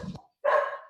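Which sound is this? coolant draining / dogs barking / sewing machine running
dogs barking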